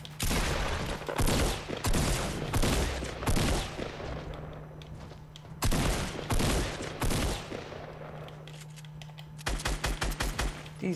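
Rapid automatic gunfire from the Fortnite video game comes in loud, dense bursts separated by short gaps, with a faster rattling burst at the end and a low steady hum underneath.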